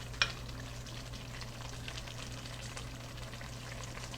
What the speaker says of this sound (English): we're gonna go ahead and stir this up